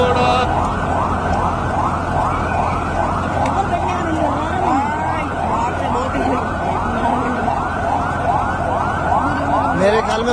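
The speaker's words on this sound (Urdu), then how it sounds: "یہ ایمبولینس سول ہاسپٹل لے کے جا رہی ہے" An ambulance siren near the scene of a fire at a plaza in Karachi, carrying the victims to Civil Hospital: a loud, close wailing that rises and falls repeatedly and steadily, with crowd noise and voices beneath it.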